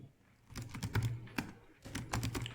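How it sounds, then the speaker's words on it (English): Keys clatter on a computer keyboard in irregular bursts of close, crisp clicks, a short pause midway, while text is entered for Arduino UART serial communication. "Okay, I'm typing something"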